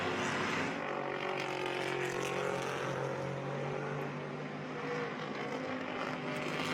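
Vintage race cars, including Camaros, run on the track at the Rolex Monterey Motorsports Reunion, a steady blended engine drone from several cars held at a fairly constant level throughout, with no voices.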